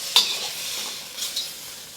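Shrimp hit hot oil in a pan for Japanese fried rice, giving a soft steady sizzle with a sharp hiss at the start and another burst later, as the food is stirred, no talking.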